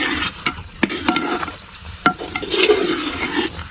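Ghee sizzling in a pan while a utensil stirs it, with irregular scraping knocks over a soft steady fry; nobody speaks.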